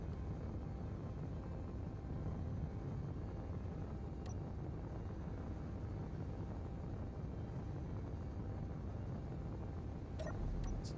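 Small-grid ferry flying in the Space Engineers video game, a steady low engine drone holding evenly throughout with a couple of faint clicks near the end.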